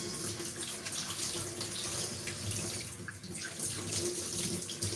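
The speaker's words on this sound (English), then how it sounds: "I'm gonna wash my lovely celery sticks." Tap water runs steadily into a kitchen sink while celery sticks are rinsed under it, a continuous close splashing rush with small shifts in flow as the stalks are moved.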